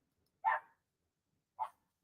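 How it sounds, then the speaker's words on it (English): A pet dog barks twice in a home, two short distinct woofs about a second apart, somewhat distant behind a door, with silence between. "my dog is barking"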